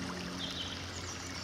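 The River Test, a chalk stream, flowing beneath a crossing on a hot day, a soft, even rush and trickle of water heard steadily with no voices.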